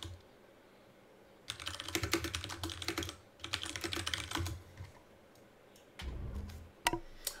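Bursts of rapid clattering keystrokes on a loud mechanical computer keyboard, picked up close by a gaming headset microphone, with short pauses between flurries and a few heavier thumps.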